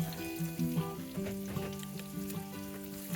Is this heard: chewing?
no